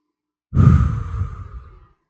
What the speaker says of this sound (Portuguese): Vamos lá, todo mundo respirando junto comigo.